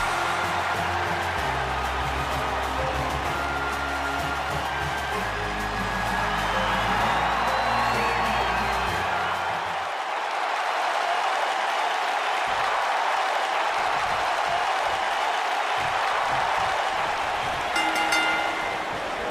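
A wrestling arena crowd in WWE 2K19 roars steadily before a women's tag team match, with a low musical rumble in the first half and the cheering continuing alone afterwards.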